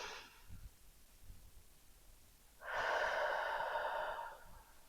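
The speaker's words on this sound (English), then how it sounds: "Take a deep breath" One long, deep breath drawn in close to the microphone, a soft airy rush that swells and holds for about two seconds after a brief faint exhale, with no talking.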